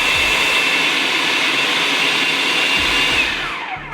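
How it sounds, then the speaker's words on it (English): A food processor grinds five slices of bread into breadcrumbs with a loud, steady whirring motor whine close by, then winds down as the blade slows near the end. "so 5 slices in a food processor"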